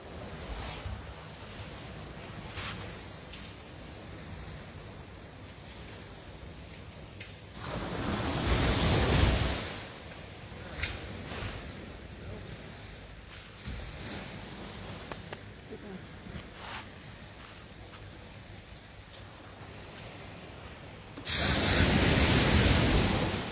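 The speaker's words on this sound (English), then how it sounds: "the large north swell which is now coming in" Large north swell breaking on a sandy beach at Sandy Lane bay, with steady surf wash and two loud surges of breaking waves, under wind buffeting on the microphone and occasional talk.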